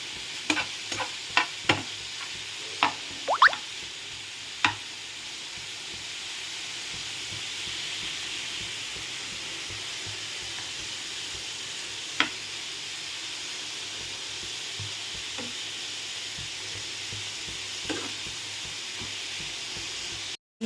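Cabbage and ginger curry frying in a pan, a quiet steady sizzle broken by several sharp spoon taps and scrapes early on and a few later, no speech.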